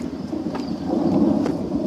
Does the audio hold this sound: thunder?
yes